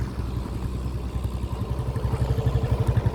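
A motorcycle engine idling and revving close by in an outdoor village setting among oil palms, with a steady low throb that grows louder and more pulsing toward the end.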